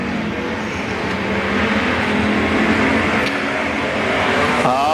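Race cars roar around Boothill Speedway during a Friday night race, a loud, dense engine drone that holds steady and swells slightly as the pack runs together, with no one speaking.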